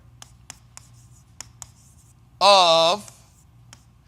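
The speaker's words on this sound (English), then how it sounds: "So we'll write this down." Words written down by hand with a pen or marker, heard as a run of short, sharp scratchy strokes spaced irregularly, with a brief spoken word breaking in midway.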